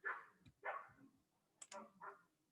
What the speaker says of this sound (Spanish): Están peleando unos perritos fuera de mi casa.